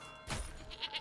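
A goat bleats in Manor Lords: a burst of sound near the start, then a couple of thin wavering bleats at moderate volume over quiet in-game ambience.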